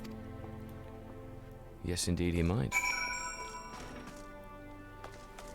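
A mobile phone vibrates from an incoming text, a loud, buzzing rattle lasting about a second amid quieter background tones, with a voice talking before it.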